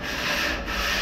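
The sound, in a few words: sanding wood by hand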